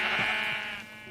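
A Minecraft sheep gives a single short bleat when hit in the video game, close and clear with nothing else over it.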